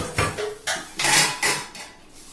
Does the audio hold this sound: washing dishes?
yes